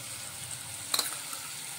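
Spices frying in a pan on a low flame as three spoonfuls of fresh curd go in for aloo shimla mirch sabzi: a soft, steady sizzle with a brief sharper splatter near the middle.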